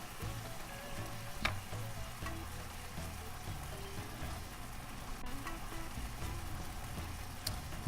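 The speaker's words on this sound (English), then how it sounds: "Bring it down to a simmer, let it thicken up." Cajun shrimp pasta sauce simmering in a pan, a steady soft bubbling and sizzling crackle with occasional small pops, fairly faint and continuous throughout with no talking.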